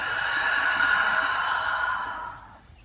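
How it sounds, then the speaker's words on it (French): A long, steady breath pushed out through the mouth during a yoga vinyasa session, a close, airy whoosh lasting over two seconds before fading away. "Et expire par la bouche."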